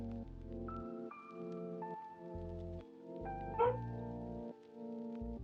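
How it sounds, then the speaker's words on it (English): A pet dog gives a single short, sharp bark or yip partway through, close and brief, over steady background music. "She's a borky dog."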